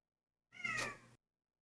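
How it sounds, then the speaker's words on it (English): A single cat's meow, short and fairly faint, stands alone in otherwise silent surroundings, drawn out briefly with a nasal tone. "The cat even says no."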